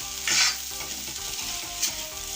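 Egg chutney being stirred in oil in a pan, with a continuous close sizzle and two louder hissing bursts as the mixture is turned, and nobody speaking.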